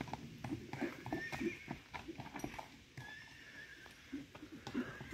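A three-year-old stallion clops its hooves in steady, fairly close steps and gives short whinnies in between, with some faint background voices.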